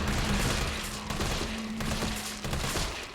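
Rapid bursts of gunfire in Resident Evil 3 Remake, a dense fusillade of shots aimed at a monster's legs, loud and continuous with a steady background hum, no talk over it.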